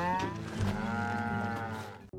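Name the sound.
farm livestock being fed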